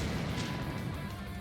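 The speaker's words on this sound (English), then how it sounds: "The explosion of lightning pierced me," Dense, roaring crackle of a lightning explosion effect from the Dies Irae visual novel, a continuous loud blast of sizzling noise with heavy low rumble filling the whole moment, no voices.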